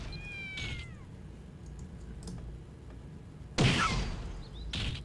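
An abyssal cat pet in the Mabinogi video game gives a short meow near the start, followed by faint clicking and a louder burst of game sound later.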